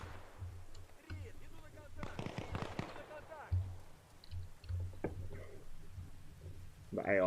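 Gunshots from a sniper rifle in the ArmA: Reforger video game crack out as several sharp bursts, some distant, mixed with other game noise and someone talking over them.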